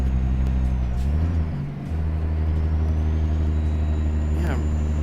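Heavy-haul truck engine in American Truck Simulator, a Peterbilt-style FLX 359 pulling an oilfield lowboy, droning loud and steady at low pitch as it labours in eighth gear, with a brief dip mid-way.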